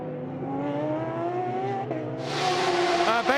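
A Toyota endurance prototype speeds past during the 8 Hours of Bahrain, its engine note rising steadily and loud before a burst of rushing wind and tire noise as it blasts by close up.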